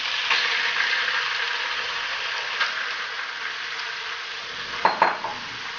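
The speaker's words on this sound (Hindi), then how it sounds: "हल्का सा इसे 10 सेकेंड 20 सेकेंड फ्राई करेंगे" Oil and aromatics fry in a pan just before chicken goes in, a steady bright sizzle running throughout, broken near the end by a few quick scrapes and clinks of a utensil stirring against the pan.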